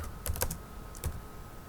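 A few quick keystrokes on a computer keyboard, a short burst of clicks followed by a couple more taps, close and fairly quiet with no talking.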